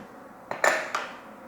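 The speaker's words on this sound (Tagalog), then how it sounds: "Tatakpan ko lang tong lutuan." A metal lid set onto a cooking pot while making batchoy: a sharp clatter and ring, then a second lighter clink as it settles, alone in a quiet kitchen.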